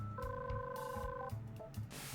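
A phone dialing in the Digimon Hackers Memories video game gives a short series of electronic DTMF tones, clear steady beeps followed by brief clicks and a soft burst of noise, quiet overall.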